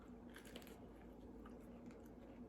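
Crunchy keto pork egg roll bitten and chewed close up, a quiet run of crisp crackles and soft squishy mastication repeating steadily with no talking.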